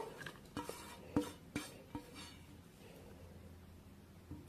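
Washed vegetable strands are moved into a cooking vessel, giving a few light clinks and scrapes of utensil against pot spread over a few seconds, fairly quiet, with no talking.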